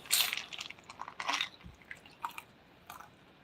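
Crunchy gari being chewed close up, with several crisp bursts of biting and grinding in an uneven rhythm, no talking.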